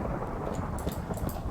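A heavy, continuous rumble of thunder from lightning in Minecraft rolls on throughout, dense and loud, with faint rain hiss layered on top.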